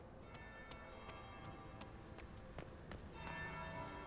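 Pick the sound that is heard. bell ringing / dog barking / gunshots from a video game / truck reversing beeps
bell ringing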